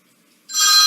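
A phone starts ringing partway through after near silence, a loud, steady electronic ring that continues to the end.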